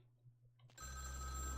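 A telephone rings in the video game Vampire the Masquerade Bloodlines, a steady electronic ring that starts suddenly and holds at full loudness after a quiet, low-humming lead-in.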